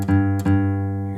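A guitar's open low E string is plucked twice, each a close, clear bass note with a soft attack that rings and sustains, the second note left to decay slowly.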